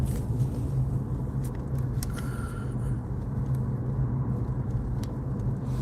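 Steady low engine rumble and road noise from a small Chevy Trax crossover driving in the countryside, heard from inside the cabin, continuous and even with no talking.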